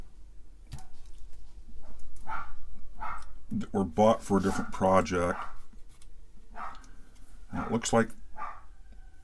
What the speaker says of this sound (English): I have an excited dog.